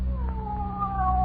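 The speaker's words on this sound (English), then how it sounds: "Just a cat." Geraldine the cat lets out one drawn-out, wavering meow that slides downward in pitch, close and clear over a low background hum, on an old radio comedy broadcast.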